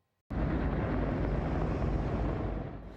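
Helicopter flying low over English Bay early in the morning while carrying a Subaru car, a loud, steady rotor roar that starts abruptly and holds close.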